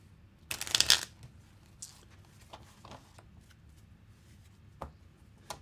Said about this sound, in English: I hope I'm not causing anyone too much anxiety by bridge shuffling these cards